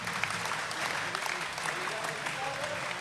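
An arena crowd applauds a rally in an under-19 men's singles badminton final at the Dutch Junior International, giving steady dense clapping for about three seconds with commentary over it.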